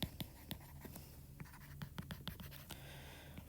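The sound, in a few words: writing on a board during a lecture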